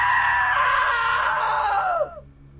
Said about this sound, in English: Now that was a great scream.